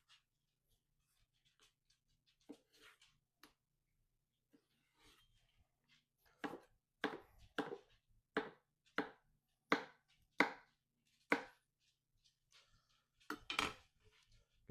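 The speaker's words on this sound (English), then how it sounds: "Just going to half some pickles. One about a 1/4 inch thick." Sharp knife chops on a cutting board as pickles are halved about a quarter inch thick, a steady run of crisp, close, evenly spaced cuts in a quiet kitchen.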